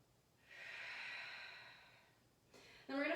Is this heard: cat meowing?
no